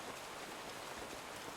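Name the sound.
light rain drizzling in Avatar: The Last Airbender episode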